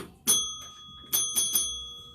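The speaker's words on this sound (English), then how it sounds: "That's a new bell." A new hand bell rings at a Mardi Gras gathering in a few bright strikes: one early ring, then three quick rings close together, each with a sustained metallic tone, loud and near with no talk over it.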